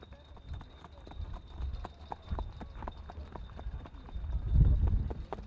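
Hoofbeats of the horse Kvika from Leirubakka under rider Jóhann Kristinn on a competition track, a steady rhythmic clip-clop at moderate distance, with a low rumble building near the end.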